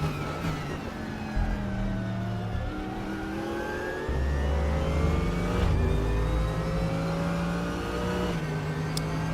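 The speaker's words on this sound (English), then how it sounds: "Faster class car approaching." A faster-class race car closes in during an endurance race at Imola in the RaceRoom sim, its engine drone climbing and shifting through gears over the player's own steady engine hum, with no talk.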